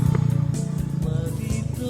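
A motorcycle taxi (ojek) on its way to a garden rumbles past close by, its engine putting out a steady, uneven putter with clattering and faint background noise.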